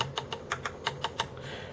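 Keys on a Dell Inspiron 8200 laptop keyboard clack in a quick, even run of about eight crisp presses, close and clear over a faint steady hiss, then stop.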